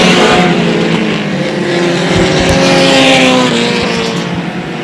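Race cars roar around an oval track on the final lap of a night race, a loud sustained engine drone with shifting pitches as several cars pass close together.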